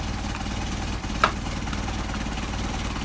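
An engine fitted with twin Solex 44PHH carburetors idles steadily at low volume, a continuous mechanical drone broken by one brief click or tap near the middle.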